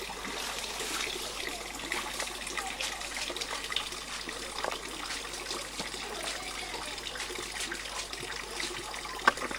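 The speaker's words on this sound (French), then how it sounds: "La source, c'est la deuxième ou la troisième source même de la concession." Spring water trickles steadily at a source on a rural concession, a soft continuous flow with faint gurgles and occasional brighter splashes, heard alone without voices.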